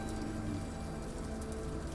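Steady rain falling at night on a road, a dense, even hiss with a low rumble underneath, with no pauses or other sounds.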